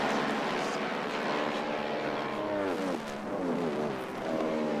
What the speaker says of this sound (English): Bike shooting by the cameras there out in front